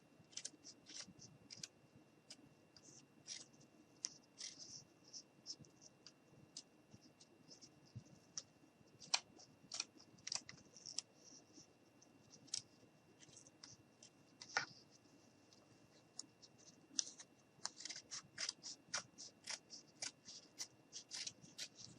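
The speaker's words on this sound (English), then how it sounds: "all I'm doing is just cutting around the guitar itself" Scissors cutting around a glued-down paper mini guitar cutout, a quiet close series of irregular snips and paper scratches spread throughout, with soft handling rustle between cuts.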